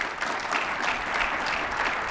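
Sustained applause from an audience at a live onstage talk with a state governor, a dense, steady wash of many hands clapping close and loud for the full stretch, with no voices rising above it.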